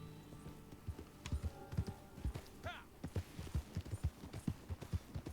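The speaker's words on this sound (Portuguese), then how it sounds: "Vamos ver se esse cavalo tem fôlego pra correr." Horse hooves clop in a quick, steady rhythm in the Western video game Red Dead Online, close and prominent, with a brief whinny partway through and some game audio in the background.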